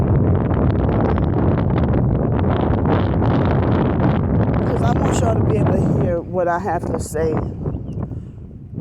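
Strong wind buffets an outdoor microphone in loud, steady low rumbling gusts for most of the time, with someone talking over it throughout; the roar eases a little near the end.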